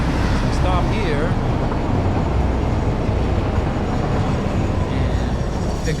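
Train in the Satisfactory factory-building game pulling to a stop: a steady, loud rumbling roar of wheels and engine with faint squealing brake tones near the start, continuous throughout.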